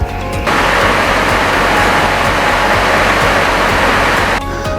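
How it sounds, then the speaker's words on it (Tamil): Tat Yuang waterfall in Laos gives a steady, close, roaring rush of falling water that runs unbroken through the middle of the clip and drops off slightly at each end. No one speaks. "இது தாங்க தாட் யுவாங் அருவி."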